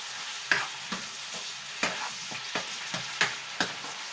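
Pork stir-frying in a pan, a soft steady sizzle broken by repeated clacks and scrapes of a utensil stirring roughly every half second, close and fairly quiet with no talking.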